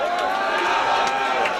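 A wrestling crowd at a CCW Riot Project Mayhem show cheers and roars in a dense, steady wash of noise that fills the whole moment, with shouts rising out of the din.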